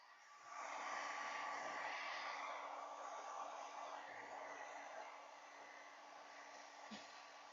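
A hair dryer blows in a steady, loud, close whoosh for several seconds, dropping slightly in level partway through and running on alone without talk.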